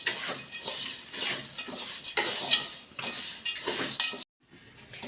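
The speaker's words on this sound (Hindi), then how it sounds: "हमने इसके अंदर मुसलसल चम्मच चलाते रहना है।" A spoon scrapes and clinks steadily against a pan as sugar melts over fairly high heat for atta halwa, a busy stirring rattle throughout that cuts out abruptly near the end.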